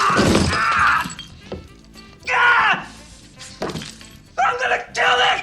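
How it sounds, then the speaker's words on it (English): Sugar breakaway glass ornaments crunch and shatter underfoot on a film set, in several loud separate bursts of brittle cracking with short pauses between them. "The sugar glass crunched and broke just like the real deal"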